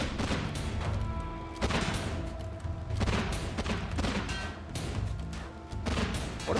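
Gunfire in a hunting video game, a dense rolling barrage of shots and crashing impacts that keeps up steadily, loud and close, with small bursts standing out.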